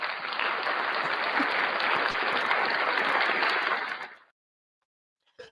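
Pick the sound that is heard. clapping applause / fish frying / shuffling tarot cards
clapping applause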